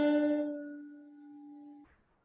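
A single electric guitar note on the B string at the third fret, plucked once and bent upward, rings clearly and decays slowly before being muted near the end, alone with no talking.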